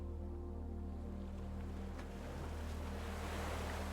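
Ocean waves wash in a continuous low, breathy roar with a soft rushing hiss and no clear breaks, steady and moderately quiet throughout.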